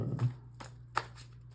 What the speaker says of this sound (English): I'm dropping these friggin' cards